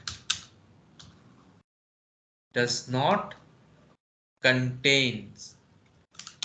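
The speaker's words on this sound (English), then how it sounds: "the notes which I am typing here" Computer keyboard typing while taking notes for a Java programming class, short bursts of sharp key clicks in clusters, alternating with a voice speaking between them.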